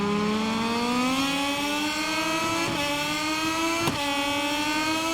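A Moto2 racing motorcycle engine in the MotoGP 22 video game, revving up in a long climbing whine through the gears with a couple of brief shifts, loud and steady with no speech.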